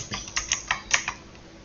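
Several quick keystrokes clack on a computer keyboard, a short irregular burst of six or so crisp taps, close and alone with no voices.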